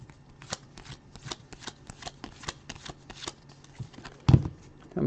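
Football and baseball trading cards are flipped over one after another, giving crisp, quick snapping flicks at an uneven rhythm, close and dry, with a louder knock near the end.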